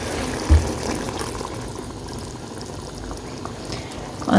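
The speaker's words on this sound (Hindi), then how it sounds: "अब मैं इसमें डालूंगी अंडे" Beaten eggs are poured into a pan of nearly dry cooked potatoes, a steady bubbling, simmering wash with a brief knock near the start and louder stirring at the end.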